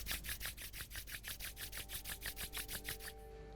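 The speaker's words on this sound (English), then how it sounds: "Gently rub your palms." Palms rubbed together during a yoga cool-down, a steady rhythmic swish of skin on skin repeating about five times a second, close and soft, with no talking.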